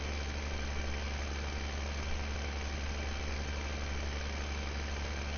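A tractor engine in Farming Simulator 15, driving down the middle of farm fields, drones steadily at mid distance with a constant low hum and no change in pitch, and nobody speaks.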